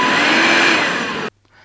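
The detachable handheld unit of a Bosch BCHF220GB 20V cordless vacuum cleaner runs with a steady high-pitched motor whine, then cuts off abruptly, leaving near silence.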